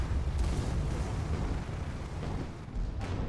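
Shots fired in a team video game match at the Spire, dense rumbling blasts and booms layered over each other, loud and continuous with slight dips, no talking.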